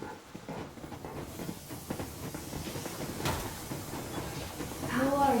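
Steam locomotive rumbling along in the wintry world of Metro Exodus, a steady mechanical chug and hiss running throughout with a sharper clank near the middle and a rising whistle-like tone at the end.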